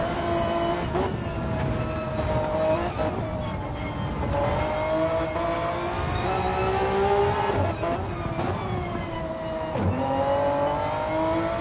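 A race car engine in a racing video game, on a lap of a Deep Forest feature race, revs hard and then drops in pitch with quick downshifts before rising again through upshifts. The loud, continuous drone repeatedly sweeps up and down.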